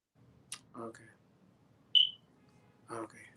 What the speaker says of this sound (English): Go change those batteries in the smoke detector.